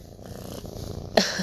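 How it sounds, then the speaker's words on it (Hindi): A pet cat purrs softly and close for just over a second in a home kitchen, a low rumbling flutter that ends in a brighter, louder noise. "आप मेरी कैट की परिंग की आवाज़ सुने"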